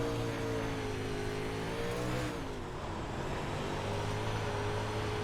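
A dirt-track race car in a racing video game at Weedsport drones at a sustained, loud engine pitch that sags briefly in the middle, then holds steady again, with no speech over it.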